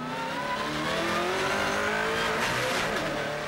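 NZV8 V8 race cars accelerate hard around Teretonga circuit, with loud, continuous engine roar and rising pitch as gears climb, nearby and without talk over it.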